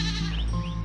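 A goat in a village gives a loud, close bleat, one wavering, nasal cry that fills the moment with no talking over it.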